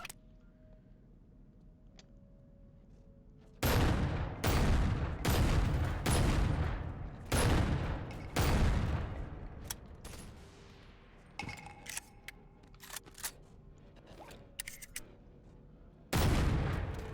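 Gunfire in the VR game Bonelab: a series of sharp, loud close shots, some in quick pairs and bursts, separated by brief pauses over a faint background hum, with a final shot near the end.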